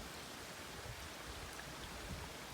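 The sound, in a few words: creek with mountain runoff flowing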